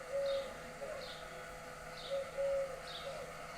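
Pigeons or doves cooing in shady trees on a cool early morning, soft repeated coos at a relaxed rhythm with a faint higher chirp recurring alongside, moderately near, no speech.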